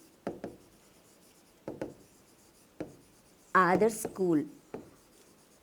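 Handwriting of a maths statement, pen strokes scratching across a surface in short separate bursts with pauses between them, and brief talk in the middle.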